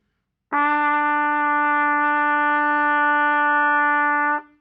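A single sustained trumpet note E, fingered with the first and second valves, held steady and clear for about four seconds with a bright, even tone and no talking.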